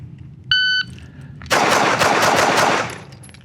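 A rapid string of close, loud gunshots from a hammer-fired handgun at an outdoor range, fired in quick succession for about a second and a half after a short electronic beep.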